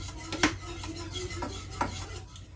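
Chocolate pie filling whisked in a pot, a whisk scraping and clinking against the metal sides in quick, uneven strokes over a low hum, close and moderately loud.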